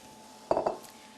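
Beef pieces for carbonade tip into a metal pot with two quick clanking clatters, close and crisp, and the kitchen is quiet around them.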